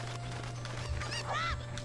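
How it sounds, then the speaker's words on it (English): Cuckoo chickens in The Legend of Zelda: Ocarina of Time squawk in a couple of short, nasal honking calls over a steady game background hum, fairly close and clear. "there's these two cuckoos over here that we want to collect"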